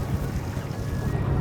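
A 250 outboard boat engine runs steadily at a dock, a constant low drone under wind noise across the whole stretch.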